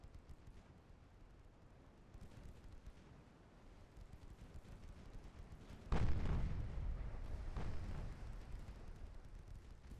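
Warship guns fire in a naval battle in Ultimate Admiral Dreadnoughts. A low rumbling backdrop gives way to a heavy boom near the middle, followed by a second, weaker blast that fades into a long rolling tail.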